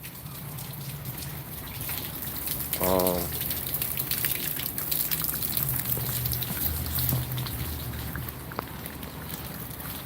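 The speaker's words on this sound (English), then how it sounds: "it's kind of raining outside" Steady rain falls outside a vacant triplex rental house, a continuous even wash of patter with one brief spoken word early on.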